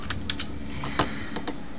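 Someone types on a computer keyboard while writing in Microsoft Word. The keys give close, crisp, irregular clicks, with one slightly heavier press in the middle.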